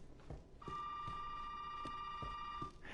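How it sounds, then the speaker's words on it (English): A telephone rings in a dusty, abandoned house in Resident Evil 7, a faint steady electronic tone held for about two seconds over soft, repeated thuds. "phone's still going off"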